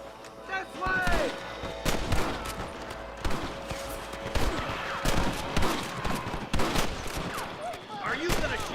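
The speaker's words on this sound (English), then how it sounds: "Are you gonna shoot any of these rustlers, boy? Good shooting, boy." Gunfire in a Red Dead Redemption shootout with rustlers: rapid, overlapping shots and heavy blasts crack continuously over a busy game soundscape, with voices shouting among the shots.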